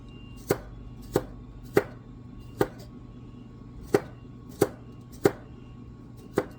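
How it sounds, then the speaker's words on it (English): A kitchen knife chops garlic on a cutting board in sharp, evenly spaced strokes, about ten firm knocks at a steady rhythm, close and clear with no talking. "Don't worry, I'm going to mince it."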